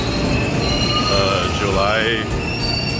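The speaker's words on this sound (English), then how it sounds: "this is the train we'll be taking. Osaka loop line." An Osaka Loop Line train rumbles loudly nearby as its wheels let out a drawn-out metallic squeal, with a single brief spoken word over the noise.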